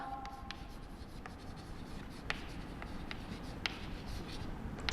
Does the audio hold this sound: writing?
yes